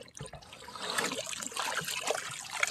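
Water trickles and dribbles from a makeshift fountain set up like a straw for a farm animal. The soft, continuous splashing sits close by, with little else around it.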